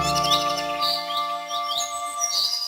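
Forest birds chirping and tweeting in quick repeated calls, close and clear, alone with no talk.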